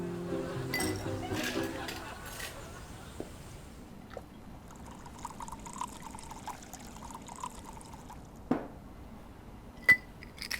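A toast at a meal with a bright glass clink near the end, preceded by pouring and trickling liquid, while people talk throughout.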